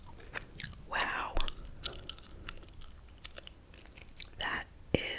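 Close-up gum chewing in a whispered setting, wet smacking and squishy clicks in an irregular rhythm, with soft breathy mouth sounds and occasional sharp pops.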